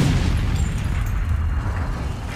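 A loud, heavy crash with deep low rumble that stays strong and noisy throughout, as a car dropped from a height slams down onto the ground.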